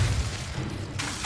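An Incendio fire spell blasts in Hogwarts Legacy, a loud, dense whoosh and rumble of flame filling the whole moment, with a sharp burst near the end.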